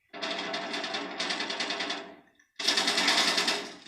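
Crossbow bolt fire in Modern Warfare 2019, heard as two dense bursts of mechanical clatter and rattling separated by a short gap, loud and close with no talk over it.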